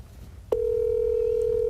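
A telephone tone starts abruptly after a short, faint pause and holds as a loud, steady, single-pitched beep without a break.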